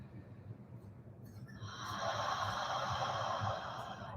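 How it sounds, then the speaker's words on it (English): Audible breathing during a yoga session: a soft breathy exhale rises from about the halfway point and holds as a steady, close airy rush, with no talk over it. "Take a couple of breaths with audible exhales."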